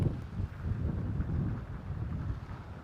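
Low, steady wind rumble buffeting the microphone out on a golf course, a soft continuous roar with small gusty swells and no voices.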